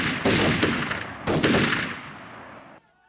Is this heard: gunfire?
yes